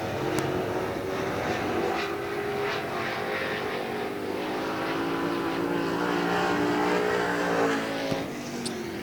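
A late model Sportsman race car running a session lap at Hagerstown Speedway, its engine a steady, loud, sustained roar with shifting pitch throughout, heard at a distance over the open dirt track.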